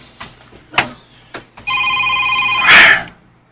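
A cellphone rings with a steady, bright electronic tone pulsing for about a second and a half, preceded by a few soft knocks and clicks, loud and close with no talk over it.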